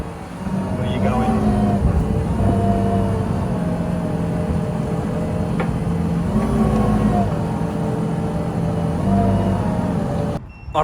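A vehicle engine idles and runs steadily while backing up a tipped trailer, a loud, continuous low rumble with slight rises in pitch and voices talking over it.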